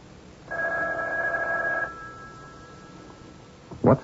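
A telephone bell rings in a tense radio mystery drama, one sustained ring of about a second and a half, loud and close with no talk over it, followed by a short sharp knock or click near the end.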